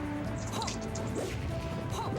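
A forward smash from the character Roy in Super Smash Bros Project M lands amid dense game noise, with crashing hits and whooshes over continuous crowd and commentary din.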